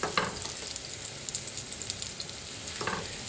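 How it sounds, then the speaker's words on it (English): Butter and olive oil melt in a pan with a constant close sizzle and crackling fry, plus a couple of faint scraping stirs. "I'm going to add about the same amount of butter. We'll get this nicely melted down."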